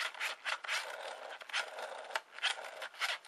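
Namco NegCon game controller twisted back and forth, its plastic mechanism giving off a run of dry creaks and rubbing scrapes in irregular bursts, close and fairly quiet with no talking.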